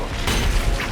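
A dense, loud explosion from the video game The Hundred Line: Last Defense Academy fills the whole second, a booming rumbling burst with crackling debris and no talking.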